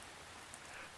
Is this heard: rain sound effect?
yes